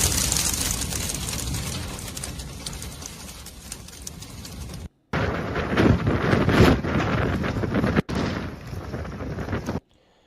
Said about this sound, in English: then all of a sudden a gust comes and does that.